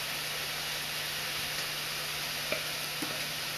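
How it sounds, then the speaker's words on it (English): Steady, even sizzle of buffalo chicken strips cooking on a grill, a constant hiss with a couple of faint pops, no talking. "the chicken is cooking"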